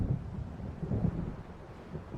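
Low rolling thunder from an approaching storm in the video game Alan Wake, a deep rumbling swell that surges and fades, heard alone without speech.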